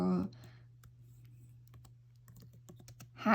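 Someone types on a computer keyboard while writing a social media post, a steady run of quiet, close key clicks with a louder burst at the start and end.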